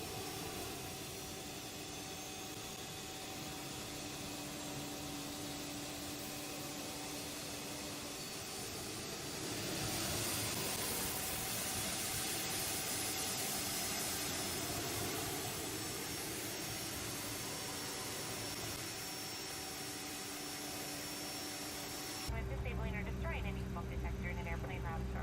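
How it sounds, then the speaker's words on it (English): Jet engine of a CRJ200 airliner in the X-Plane 11 flight simulator, starting with a steady broadband roar and a whine that holds throughout and builds slightly partway through. A voice talks over it, and the sound changes character abruptly near the end. "So we have a good engine start in 2 on number 2"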